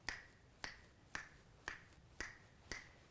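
Six crisp finger snaps land at an even, unhurried pace, each one sharp and close in a quiet room. No one speaks.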